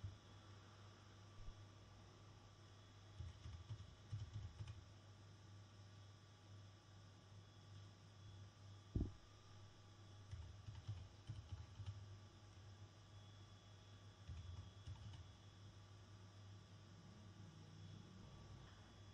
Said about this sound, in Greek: Πληκτρολογούμε τον κωδικό εξουσιοδότησης.